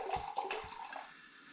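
Home-brewed Earl Grey cider poured sloppily into a glass, a short, quiet splashing and gurgling pour with a couple of low glugs at the start, then fading froth.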